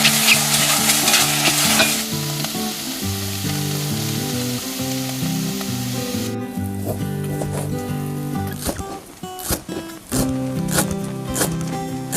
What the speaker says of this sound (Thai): ไอเอาเห็ดมันปู มา คั่วให้มันหอมนะคะก่อนที่จะเอาไปตำเนาะ